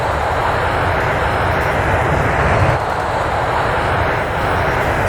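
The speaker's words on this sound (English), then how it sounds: "Captain Anderson hits the afterburner." A jet aircraft with its afterburner lit on the takeoff roll, a loud continuous roar of dense broadband rumble and hiss that holds steady throughout, close and overpowering, with no voices.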